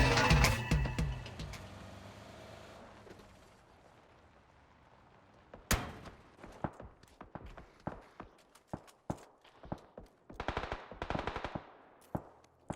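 Gunfire in PUBG during an esports match: a dense burst of rapid shots at the start, then scattered single cracks and short volleys at varying distances, mixed with in-game footsteps and movement noise.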